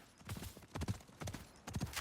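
A horse mount ridden in the game Highguard clip-clops in quick paired hoofbeats, about four clusters in two seconds. The steady galloping rhythm is fairly faint and sounds a little distant.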